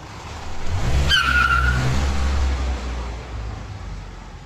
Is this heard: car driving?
yes